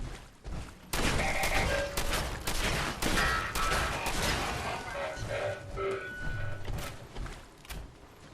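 Explosion and rapid blasts in Fallout 4, a loud burst of repeated sharp bangs and crashes after a brief quieter start, with clattering debris trailing off.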